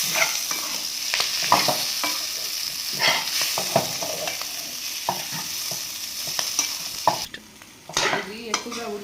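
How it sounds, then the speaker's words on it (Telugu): A spoon scrapes and stirs mutton liver frying in a pan, with a continuous sizzle under repeated clattering strokes against the metal, close and busy, ending with a brief pause and a few more knocks. "బాగా మిక్స్ అయ్యేలా కలిపెట్టుకుందాం లివర్ని,"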